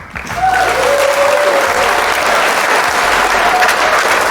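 An audience breaks into loud, sustained applause, dense clapping filling the room for several seconds, with a faint sustained tone and an indistinct voice underneath.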